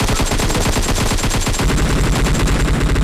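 Automatic weapons fire in a battle royale shooter: rapid, loud, continuous bursts of gunshots rattle close by with no pause across the whole moment.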